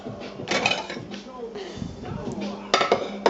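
A plate set out in a kitchen while sour-milk pancakes cook, giving clinks and clatters of dishes and cutlery, with a sharper knock of crockery near the end, all under a person talking.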